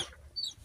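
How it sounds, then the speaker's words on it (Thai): A chicken being lifted up gives a short, close squawk-like cluck over low background rumble. "กำลังเอาไก่ขึ้นให้เมียเพิ่นเฮ็ดทุกคนเลยเออ"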